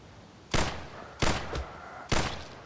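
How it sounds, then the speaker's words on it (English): Three sharp gunshots from an open-world survival video game, spaced roughly evenly apart, each a loud broadband crack with a brief decaying tail over quiet background. "go ahead and get a shot off here"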